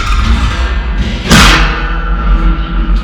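A metal fire pit insert is set down into a table, one loud close thud over a low steady background rumble.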